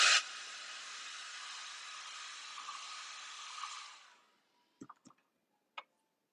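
A hair dryer blows a steady, close, hissing roar over an alcohol-ink craft project for about four seconds, then winds down to silence, followed by a few small clicks.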